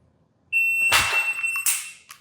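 Shot timer beep at a practice draw from the holster, heard as a sharp electronic tone followed by a loud burst of impact noise and a second brief crack, close and clear with no talk.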